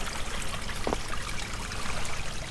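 A small creek flows beside a hiking trail at Taylorsville Metropark in Southwest Ohio, giving a steady, close rush and trickle of water throughout with no voices.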